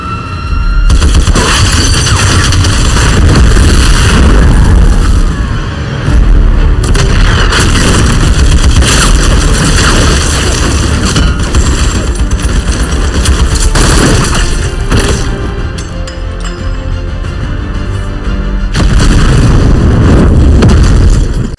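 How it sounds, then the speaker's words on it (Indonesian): Sustained, very loud bursts of gunfire and booming explosions in an action film shootout with police, with dense, overlapping rapid shots and blasts continuing almost without pause and only brief dips. "Mereka berdua pun bertindak secara brutal, yang bahkan menembaki para polisi yang baru saja tiba di tempat tersebut"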